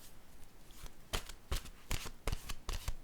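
Deck of playing cards shuffled for a card reading, a quick run of sharp riffling bursts in an irregular rhythm, close and crisp with no voices.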